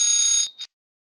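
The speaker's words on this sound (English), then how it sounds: "Is that my alarm?" A loud, steady electronic alarm tone sounds during a business presentation, then cuts off, gives one short final blip and falls silent.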